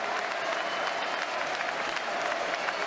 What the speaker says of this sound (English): he gets a great reception from the crowd, Diego Forlán, and quite rightly so